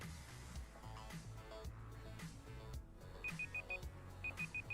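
A timer gives short, evenly spaced beeps in groups of four. The beeps sit faintly under loud, busy music and game sound.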